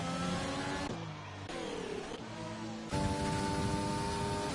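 A sim-racing car screams through a hot lap at Bahrain, its engine note climbing in repeated surges and dropping with each gear change. It is loud and close, with no talk over it.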